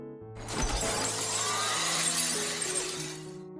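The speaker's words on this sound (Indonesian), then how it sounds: "dia nggak sengaja menyenggol seorang wanita sampai menjatuhkan tumpukan gelas" A stack of glasses topples and shatters, one loud crash followed by a bright spray of tinkling shards that rings out and fades over a few seconds, under a soft musical bed.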